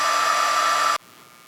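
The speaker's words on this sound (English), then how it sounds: "And now you can hear the fan for the inverter has kicked in." A heat gun powered by an EcoFlow River 2 portable power station blows with a loud, steady roar and a bright whine, then cuts off abruptly, leaving only a faint, even hum like the inverter fan.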